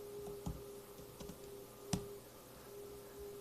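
Keys on a computer keyboard tapped in a few scattered clicks, one sharper keystroke standing out, close and quiet over a steady electrical hum with no talking.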